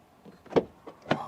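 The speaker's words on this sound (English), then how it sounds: "Then door closing sound" The door of a first-generation MINI Aceman compact car shuts with a soft muffled thud, followed by a second lighter clunk about half a second later, close and fairly quiet.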